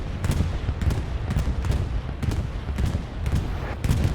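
Bombing run explosions thud and crack in Hell Let Loose, a World War II shooter, as a series of heavy booms arrives at a steady pace amid constant rumble, with no talk.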